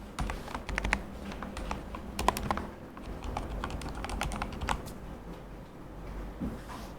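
Fingers typing on a computer keyboard, a quick irregular run of sharp, close key clicks and taps that keeps going for several seconds with short pauses, with no talking.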